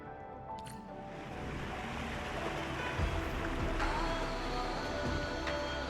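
A raft glides along an underground water channel in Arknights Endfield, with a steady wash of sloshing water and surf-like rushing that swells slightly, plus a faint tonal hum.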